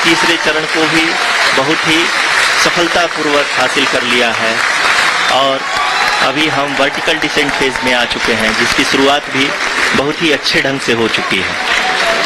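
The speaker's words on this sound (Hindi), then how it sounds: "आप तालियों के गड़गड़ाहट से सुन सकते हैं" Applause rises in mission control during the Chandrayaan-3 lunar landing's vertical descent phase, heard as a clapping wash under continuous close commentary from a male announcer.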